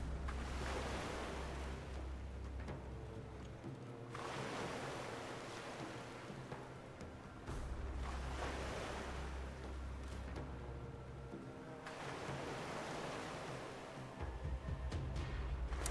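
Ocean waves at sea in Mount & Blade II: Bannerlord's War Sails naval DLC: loud, continuous surf and rushing water with broad swells that rise and fall in long, repeating surges, alone without talk.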